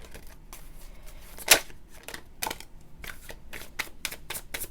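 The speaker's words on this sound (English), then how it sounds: "I want to take a few more cards." Tarot cards are shuffled and drawn in a run of crisp riffling and snapping flicks, close and fairly quiet, with one sharper slap standing out and no talk over it.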